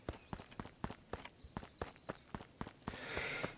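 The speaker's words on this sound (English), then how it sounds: "Luca heard a group of footsteps approaching." Group of footsteps approaching in the game Beacon Pines, a quick irregular run of soft thudding steps, fairly close, ending in a rustling swell.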